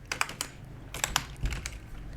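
Computer keyboard typing out JavaScript code, a close run of crisp key clicks in uneven bursts with brief pauses between them.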